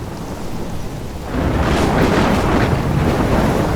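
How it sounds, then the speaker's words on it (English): Thunderstorm in the game Life is Strange, a heavy roaring rumble of wind and rain that swells louder partway through, broad and continuous with no voices. "I'm trapped in a storm?"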